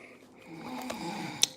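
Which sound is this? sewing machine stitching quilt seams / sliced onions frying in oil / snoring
snoring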